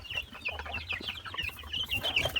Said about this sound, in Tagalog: native chicken yan